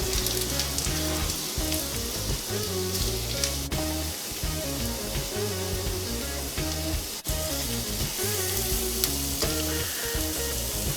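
Mushrooms frying steadily in a pan on the stove, a continuous dense sizzle and crackle that stays loud and even throughout, with no voices.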